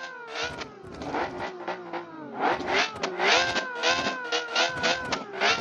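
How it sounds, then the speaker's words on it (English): A ChatGPT-designed supercar with a V12 engine of more than six litres in BeamNG, revving hard again and again in loud, close, rising and falling surges with a whining, harmonic tone. "So as expected, with a 6 point something liter, right? A V12 engine."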